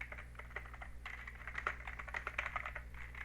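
Rapid, uneven clatter of computer keyboard keys being typed on close by, continuous for a few seconds, with a low background hum and no talking.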